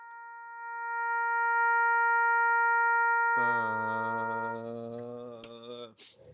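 A smooth, pure sustained tone holds for a few seconds, then a trombone's brassy, buzzing low concert B flat in first position joins and sustains before cutting off.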